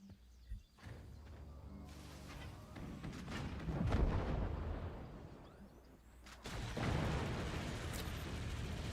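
Heavy mortars fire and burst in the physics strategy game Forts, a dense run of booming explosions and crackling impacts that swell and fade over a continuous battle rumble.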